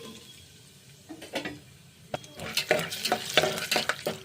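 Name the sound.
peanuts frying and being stirred in hot oil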